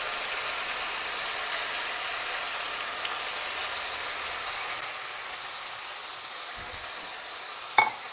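Soaked dal stir-fried in a hot pan for a Bhogi and Sankranti festive dish, a steady loud sizzle and hiss running continuously, ending with a brief clatter of a utensil.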